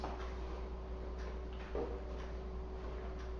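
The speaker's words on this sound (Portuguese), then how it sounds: "Tem um relógio meio barulhento aqui, preciso tirar ele daqui" A noisy clock ticks faintly and steadily in a quiet room, the soft regular clicks sitting over a low constant background hum.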